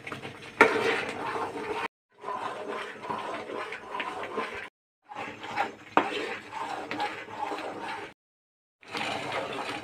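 A spoon stirs thickening Bengali palo in a pot, making scraping, clinking strokes in bursts of a couple of seconds broken by brief silent pauses.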